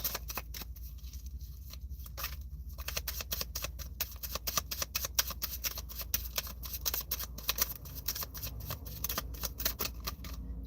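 Tarot cards being shuffled for a card pull: a continuous riffling, flicking patter of cards, close and fairly quiet, with rapid irregular clicks throughout and no talking.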